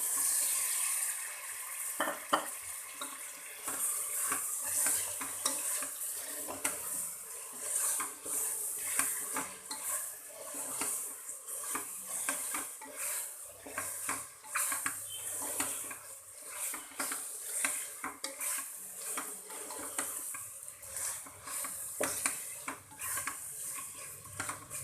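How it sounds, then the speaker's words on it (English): Mutton sizzles and fries in a pot for biryani while a utensil stirs and scrapes steadily against the metal, close and continuous with no talk. "we'll just fry it a bit, and then we'll add the mutton to it"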